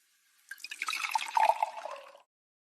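A liquid poured in one continuous stream for under two seconds, bubbling and trickling fairly close, with nothing else around it.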